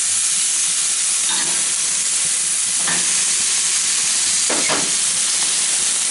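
Pork spareribs sizzle on a barbecue grill, a steady loud hiss of frying fat broken by a few faint clinks and scrapes, close up with no talking.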